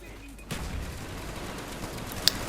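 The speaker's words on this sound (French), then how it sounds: "je vais tout simplement vider le chargeur de ma Ogbar sur les pauvres zombies" Sustained automatic fire from an upgraded weapon unloading a full magazine on zombies in Call of the Dead, a steady dense rattle of shots with one sharper crack near the end, loud and continuous.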